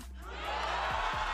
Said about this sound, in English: everyone is on their feet cheering.